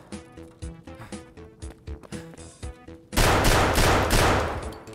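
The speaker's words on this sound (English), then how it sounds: "that you shooting at me?" Gunfire in Escape From Tarkov: a string of separate single shots for about three seconds, then a loud sustained burst of rapid fire that continues to the end, close and harsh.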